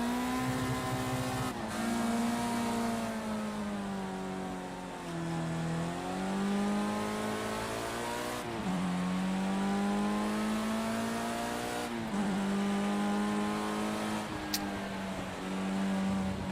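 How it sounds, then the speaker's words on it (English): A Formula Rookie race car drifting in Project Cars 2, its engine droning loud and steady, dipping and climbing in pitch as the car slides through corners, with no voices over it. "And we're drifting."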